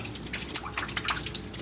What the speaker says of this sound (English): An industrial bin catching water from a leaking ceiling.